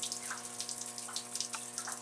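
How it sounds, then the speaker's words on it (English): A steady stream of water rushes and trickles into the bilge of a Fletcher-class destroyer, a continuous close hiss with small splashy bursts over a constant low mechanical hum, no voices. "You can see the stream of water coming right in."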